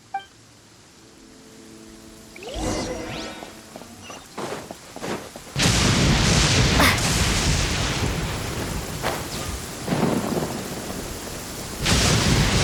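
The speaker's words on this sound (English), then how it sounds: "Where is the storm headed?" Thunderstorm in the game Genshin Impact: rolling thunder booms and a loud crack build over steady heavy rain, with scattered footsteps at first, then a sustained roar of storm noise that swells again at the end.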